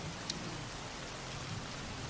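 Rain falling steadily, a soft even wash of drops with a low rumble underneath and one brief sharp tick near the start, no voices.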